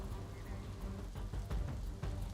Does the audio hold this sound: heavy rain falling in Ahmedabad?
yes